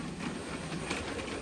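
A model train rolls along its track with a continuous rushing, rattling hiss at steady loudness, no voices.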